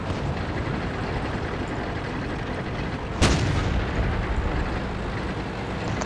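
Enemy artillery fire in a tank battle video game, with the player in a T29 heavy tank: one sharp booming shell impact cuts through a constant loud rumbling din of engine and battle noise.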